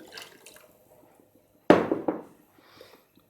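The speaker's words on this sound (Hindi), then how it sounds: "हमें 2 कप पानी और चाहिए जो कि मैं भी डालती हूँ। उतना ही सादा पानी।" Plain water is poured into a pot of rice being cooked, a single brief splashing pour near the middle of the moment, with faint kitchen clatter before and after and no talking.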